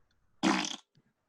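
A voice imitates a fart with one short, loud, buzzing raspberry of about half a second, standing alone in an otherwise quiet room.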